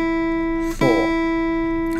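An electric guitar picks a single E note that rings sustained, then is plucked again just under a second in, the new attack cutting in over the held tone.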